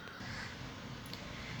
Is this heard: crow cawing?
yes